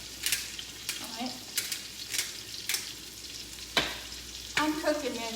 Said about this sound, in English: I'm cooking this, by the way, in some garlic powder and butter and an iron skillet